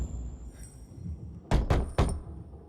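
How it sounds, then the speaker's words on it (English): Three sharp knocks strike a door in Dying Light 2, landing close and loud in a quick uneven burst after a quiet stretch of low background hum. "Knock on some doors."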